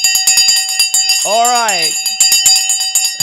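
An opening bell rings once on a live stock market show, a bright swelling tone lasting under a second amid rapid ticking clicks, with a person talking over it.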